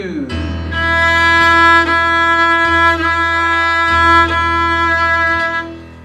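Violin sustaining a steady E on the D string, bowed in a series of clear, strong strokes with a rich harmonic tone, close and alone.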